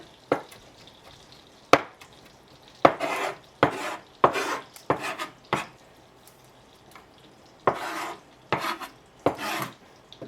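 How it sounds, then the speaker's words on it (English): Basil being chopped with a knife on a cutting board in a home kitchen: about a dozen crisp, close knocks in irregular bursts, with quiet pauses between strokes. "I'm going to go ahead and chop up the basil."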